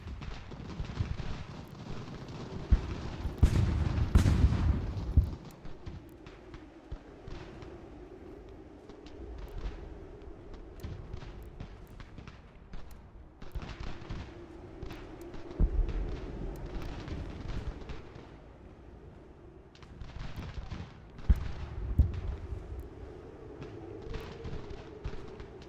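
Musket and artillery fire in the Ultimate General: American Revolution strategy game, scattered thumps and crackling volleys rolling on and off over a low rumbling battlefield ambience.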